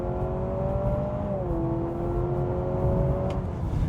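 A 2025 Honda CR-V Hybrid in sport mode accelerating hard from a standstill, a steady engine drone with a rising then dipping tone as a simulated shift passes, heard from inside the cabin.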